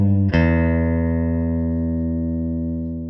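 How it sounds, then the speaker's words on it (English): A low E string on an electric guitar is picked with a sharp attack, bent up a half tone and released, then left to ring on alone, slowly fading over a few seconds. "This symbol is a bend up and release"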